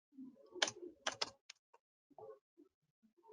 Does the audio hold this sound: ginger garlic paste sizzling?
no